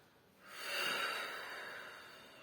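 A single slow inhalation through the nose during a mobility exercise routine, close and fairly soft, swelling then tapering off over a couple of seconds with no talk.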